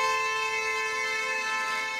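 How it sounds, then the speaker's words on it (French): Car horn honked at a roadside protest, a single sustained, steady blaring tone held loud and unbroken for about two seconds with no talk over it. "Un petit coup de klaxon pour mes collègues"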